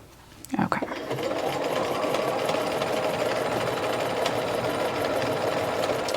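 Home sewing machine stitching knit fabric for a dress, a steady close whirring hum that starts after a brief clatter and runs unbroken for several seconds.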